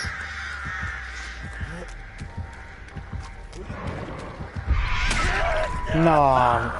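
Crows cawing in the horror game Dead by Daylight, scattered caws and a louder flurry near the end, mixed with game sounds and a voice talking throughout.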